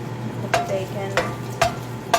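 Bacon stirred in a frying pan, with four sharp scraping clacks at a loose rhythm over a steady low sizzle.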